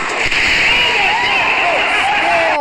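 A 10-foot devil's toothpaste test rig bursts with a sharp crack, then gives a loud, sustained roaring hiss. Whistling, warbling tones ride on top of the rushing noise, close and continuous until an abrupt stop.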